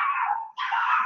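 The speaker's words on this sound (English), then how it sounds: "you might be hearing the crazy puppies barking right now" Excited puppies bark and yelp indoors in two close, drawn-out, whining bursts separated by a brief gap, loud and unaccompanied by talk.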